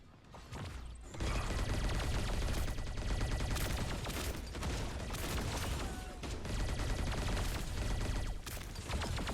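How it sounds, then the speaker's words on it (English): Rapid gunfire in the T3 Arena video game, a dense, loud barrage of repeated shots with brief gaps, sustained over several seconds without speech. "There's mad shots there"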